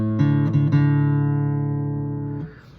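A single guitar D string plucked once during tuning, ringing alone with a bright attack that sustains and slowly fades over a couple of seconds, with light fret or hand noise near the start.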